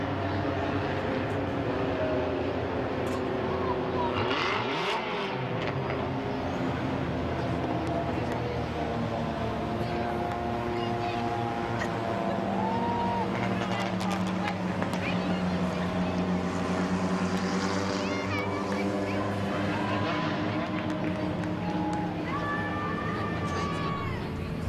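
Race cars at the Midvale Speedway Fall Classic drone continuously around the track under a public-address announcer, with steady engine tones shifting in pitch as cars pass.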